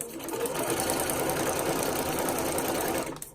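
A sewing machine stitches fabric up close while corners are being turned, its motor whirring in a steady, even run for about three seconds before stopping.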